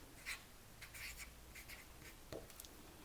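Pencil or marker retracing a line on a paper sewing pattern for a jacket, producing a few short, quiet scratching strokes with small pauses, close and soft with no talk.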